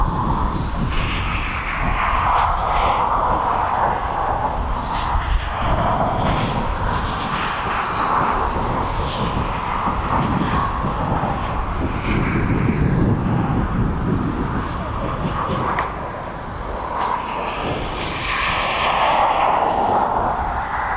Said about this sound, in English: We have the Jet 2737 off to Palma this evening. It's just taxiing down now.